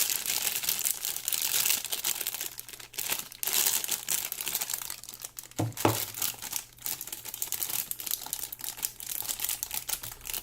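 Hard disk packaging being opened by hand, steady crinkling and crumpling of plastic wrap close up, with a couple of sharper tearing snaps midway and continuous rustling throughout.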